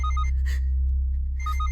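A phone ringing after a call to the daughter, in the Malayalam film Paulettante Veedu: repeated bright electronic ring pulses in two bursts separated by a short pause, loud and close over a low hum, with no talking.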